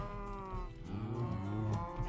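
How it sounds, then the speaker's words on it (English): Minecraft cows moo in a long, low, drawn-out call, with a second overlapping moo rising beneath it, close and clear. "So, we're gonna have some cows."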